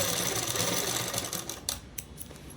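A sewing machine stitches the lining of a child's frock, a fast, steady mechanical whirr close up that stops and restarts in short bursts near the end, with no talk.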